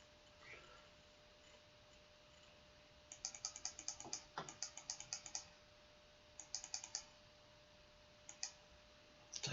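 Quick bursts of computer mouse clicks during a GeoGuessr round, clustered in rapid runs of crisp taps with short pauses between, close and fairly quiet over a low background hum.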